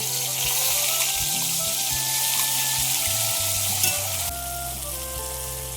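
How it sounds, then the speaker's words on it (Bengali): Whole garam masala and ground spice paste fry in hot oil for a paneer kosha, giving a steady close sizzle and crackle with occasional stirring scrapes and no talk. "তেল গরম হয়ে গিয়েছে, গোটা গরম মশলাটা দিয়ে দিয়েছি। বাটা মশলাগুলো যে করেছিলাম সেই বাটা মশলাটা দিয়ে দেবো।"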